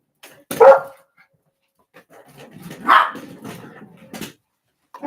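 A dog barks in three sharp, separate bursts, fairly close and loud, with short quiet gaps and a softer yip between them. No one speaks.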